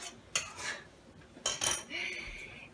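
Steak flipped over in a pan with metal utensils, two sharp clatters of utensils against the pan, each followed by a rising sizzle, close and fairly loud.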